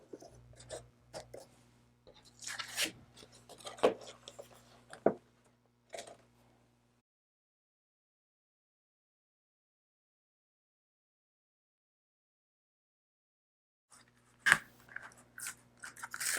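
Deep point blade cutting through wood and leather for earrings, heard as close, sharp crunching and snipping bursts, then a long silent pause and one more crisp cut near the end.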